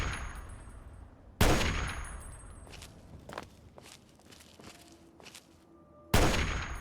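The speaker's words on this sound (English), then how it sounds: "Is this because this is the victory rifle I'm shooting him with?" Two loud, sharp rifle blasts from the victory rifle in the video game Fallout 3, about five seconds apart. Faint clanks and shuffling footsteps fill the gap between them.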